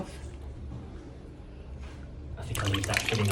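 Water runs from a tap into a basin, and the flow grows louder and splashier in the final second. A voice is heard faintly underneath the running water.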